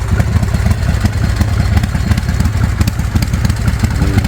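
A custom chopper motorcycle engine idles loudly up close, a steady low-pitched loping rumble with rapid rhythmic firing pulses and slight mechanical clatter throughout.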